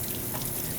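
Water from a tap runs steadily and loudly for a moment while something is washed, a dense, continuous close splash with no pauses.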